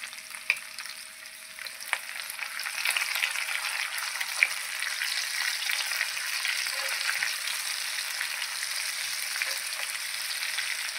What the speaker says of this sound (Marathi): असे तेलामध्ये मी फ्राय करून घेणार आहे।